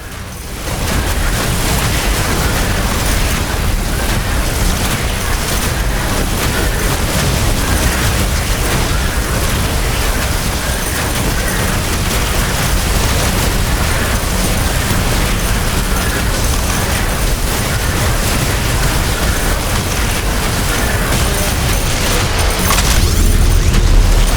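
Base buildings blown apart in the video game The Riftbreaker: a loud, continuous barrage of booming explosions and crackling bursts blended into a dense roar that stays intense from start to finish.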